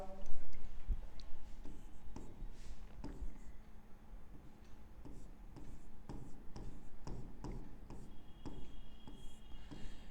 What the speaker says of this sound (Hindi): इसकी मैं एक्सप्लेनेशन लिख देता हूं।